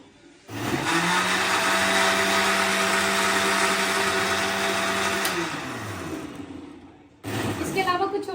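An electric blender whirs loudly at a steady high pitch for about five seconds while blending strawberries and milk into a shake, then winds down and stops before starting up again briefly, a voice speaking over it.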